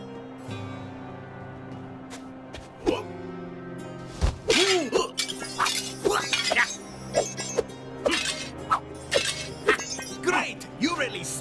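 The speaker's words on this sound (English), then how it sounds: "You really smashed that object!" Objects smashed in the Hotel Transylvania Scary Tale Adventure video game, with a run of loud glassy shattering crashes and chiming effects following one another under game voices and music.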